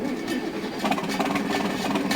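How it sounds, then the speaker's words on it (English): A 180 horsepower tractor engine in Farming Simulator 19 idles with a steady low rumbling drone, close and continuous. "I want you to hear the engine on this thing, because it is absolutely beautiful"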